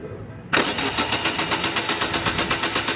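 A Pontiac G3 that won't start is cranked after a short quiet lead-in. The starter turns the engine over in a loud, close, rhythmic chug that keeps repeating without the engine catching.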